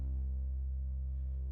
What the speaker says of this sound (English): It's got a chorus on it right now, so it's got 4 voices and it's got a reverb on it